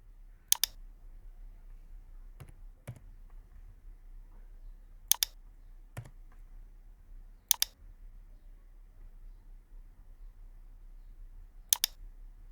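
A computer mouse clicks while drafting in AutoCAD, sharp isolated clicks spaced a few seconds apart, sometimes in pairs, close and distinct over a quiet low hum.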